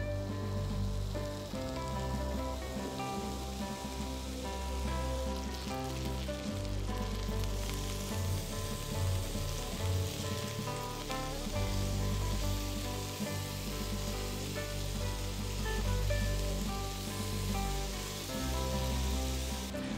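Pet-friendly hamburger slider patties sizzle and fry in a pan, a dense, continuous crackle and hiss with scattered pops, close and fairly loud, with no talking over it.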